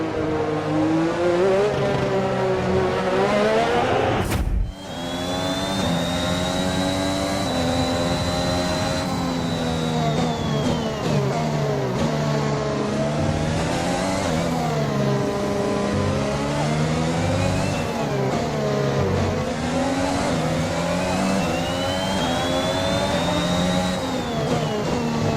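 Formula 1 cars roar around a circuit as loud, sustained high-revving engines rise and fall through gear changes, with one car sweeping past closely and others whining in the distance.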